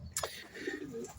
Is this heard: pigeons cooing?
yes